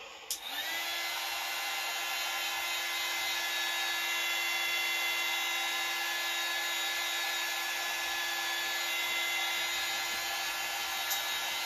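A hair dryer runs steadily and loudly for the whole stretch, blowing on a freshly glued craft project, with a faint click at the start as it switches on and no talking.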